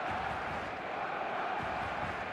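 Stadium crowd in the football video game eFootball on match day, a steady dense roar of massed voices that holds evenly throughout without distinct cheers or speech.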